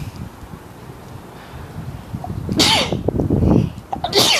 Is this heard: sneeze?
yes